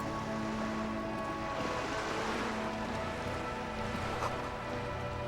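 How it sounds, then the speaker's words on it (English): Ocean waves in the video game Disco Elysium wash in a steady, continuous surf with a rain-like hiss and a faint low hum beneath, with no voices. "The sound of the waves."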